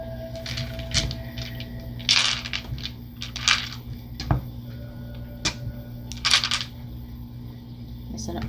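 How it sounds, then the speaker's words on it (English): Tarot dice rolled and tumbling on a tabletop, giving scattered clattering clicks in several short bursts across the stretch, with a faint voice in the background. "I'm going to be using tarot dice as well."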